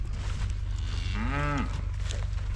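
A cow gives one clear, drawn-out moo close by, rising and falling over about half a second against a steady low rumble of outdoor background noise.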